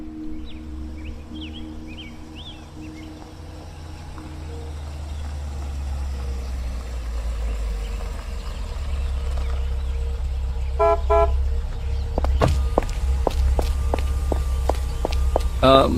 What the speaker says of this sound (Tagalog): nakita naming dumating ang sasakyan ni Aling Petra